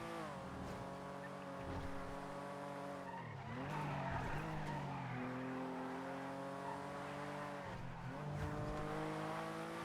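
A fast Sultan car in GTA V roleplay drives hard, its engine droning steadily with rising and falling revs, and tires squeal and skid through the turns, close and continuous.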